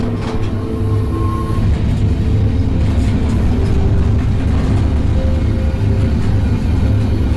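A train passes in a video game with a loud, constant rolling rumble and clatter, close and unbroken throughout.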